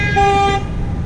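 A single car horn toots loudly for about half a second nearby outdoors, with traffic rumble continuing underneath after it stops.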